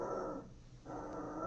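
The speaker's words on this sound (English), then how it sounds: "My dog, Bino, got a burst of barking" A dog growling and huffing in low, rough bursts close by with a brief pause between, no barks clearly standing out and no voices.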